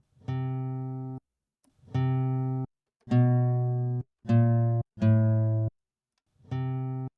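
A sampled guitar C note is triggered from a keyboard six times, each a clean sustained tone lasting about a second before cutting off, with short gaps and varying loudness between strikes.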